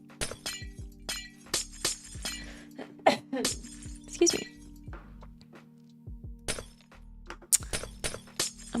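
Glass blocks being placed in Minecraft produce a string of sharp clinking, shattering taps in irregular bursts over a steady game background hum, with a brief spoken aside.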